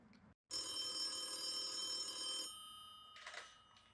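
A telephone rings in a video game to set up a gag call, giving a sustained electronic bell tone for about two seconds that is followed by a faint, brief burst.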